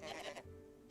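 A goat bleats once in the Hytale video game, a short wavering call that trails into a low steady hum.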